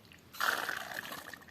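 Water drains out of a small mini smoke unit in a short splashing trickle that starts suddenly, close and fairly quiet, then fades into a lighter dribble.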